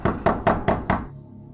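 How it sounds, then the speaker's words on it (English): Five sharp knocks on a hotel room door, evenly spaced and close, each ringing briefly before a final silence. "But then it happened again, a knock at the door."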